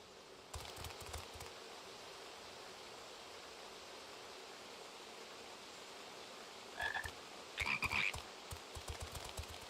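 A toad croaks in Final Fantasy XIV amid quiet, steady background hiss, with a few short croaks near the end.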